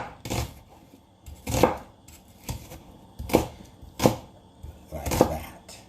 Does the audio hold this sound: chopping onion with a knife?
yes